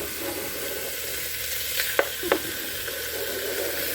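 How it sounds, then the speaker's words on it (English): Bacon rendering in a pan over a campfire gives a steady, moderate broadband sizzle throughout, with a couple of brief sharper pops or clatters near the middle and no talking. "So we start off by rendering the bacon"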